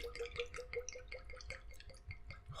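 Liquid poured and dribbled over a tabletop at a casual gathering, a rapid run of small wet drips and splatters close by, steady and fairly soft throughout.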